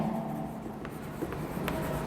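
Chalk or marker scratches on a board in a chemistry lecture classroom, a few short, faint strokes set against steady room noise.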